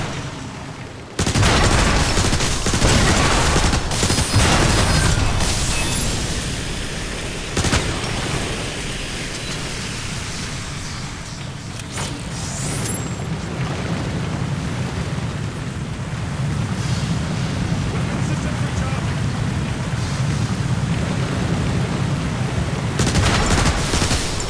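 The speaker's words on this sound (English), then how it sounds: "Well, I say we start blasting stuff." Blasting and heavy gunfire from the video game Transformers: War for Cybertron, a loud, continuous barrage of rapid shots and impacts with dense rumbling battle noise lasting throughout.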